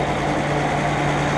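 A 1952 Dodge pilot house truck engine running at a steady idle, a close, loud, even rumble with a constant low hum and no voices.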